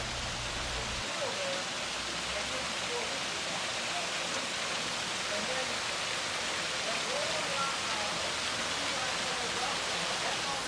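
Water pours steadily down a concrete sculpture waterfall, making a constant broadband rush and splash that stays even and close throughout, with no clear talk over it.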